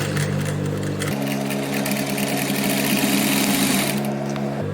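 A sewing machine steadily stitches along fabric marked at six-centimetre intervals for a children's quilted piece, its loud continuous motor whir shifting pitch partway through and easing at the end.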